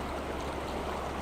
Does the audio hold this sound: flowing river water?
yes